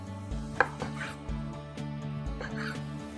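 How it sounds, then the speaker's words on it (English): A knife cuts through red wine glazed brisket across the grain into thick slices, making a few soft, close chopping taps against a board. A low musical background plays underneath. "I'm going to cut it in about 3/4 inch thick slices"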